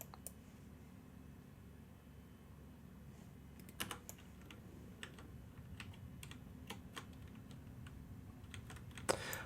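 Quiet, steady typing on a computer keyboard, soft rapid key clicks with a few sharper taps, heard close over a low background hum with no talking.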